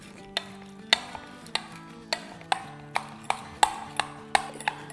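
A whisk or spoon beats 2 cups of yogurt (dahi) in a bowl for raita, ringing metallic taps against the bowl in a steady rhythm of about two per second, close and clear.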